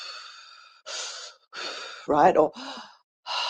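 A person demonstrates anxious breathing out, imitating a few audible sighing exhales close to the mic with short pauses between them, and brief speech in the middle.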